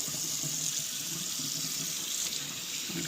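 Tap water runs steadily into a sink, washing the cure off a pork butt being made into bacon. The splashing rush is continuous and close, with no talking.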